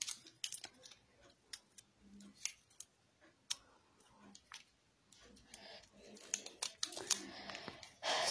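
Sticky tape being pulled, handled and pressed onto a plastic container for a shadow-theatre spring, with close crackling rips, clicks and crinkles coming in irregular bursts and a louder stretch of tearing near the end.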